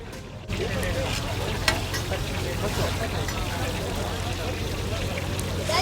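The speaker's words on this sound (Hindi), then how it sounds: "बड़ा सा कढ़ाव इन्होंने लिया हुआ है और बड़े बड़े कबाब इसमें बना के आगे फ्राई करने के लिए डालते जा रहे हैं" Large Peshawari chapli kebabs frying in oil in a big wok at an outdoor food festival stall, a steady loud sizzle throughout, with a voice talking and crowd noise around.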